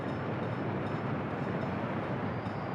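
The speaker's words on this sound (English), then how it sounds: "let's just make sure our train is heading in here to pick up this other train" A train in the video game Workers & Resources rolls in, a steady low rumbling wash of wheel and engine noise at even loudness with no distinct beats, heard alone.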